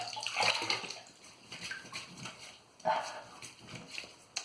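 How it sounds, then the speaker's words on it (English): Water splashing from a running tap as hands wet a face before shaving, several uneven bursts of splashing and dripping close by, with quieter gaps between. "let me wet my face a bit."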